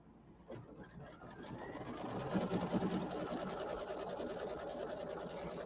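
A Brother embroidery machine stitches a fall settee pillow with a rapid, steady mechanical whir that starts softly and builds into a continuous buzzing hum, fairly quiet and close.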